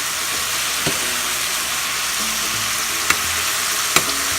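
Chicken fries in a pan with a loud, steady hissing sizzle, close up. A few sharp clicks of a utensil against the pan break through the sizzle. No one talks.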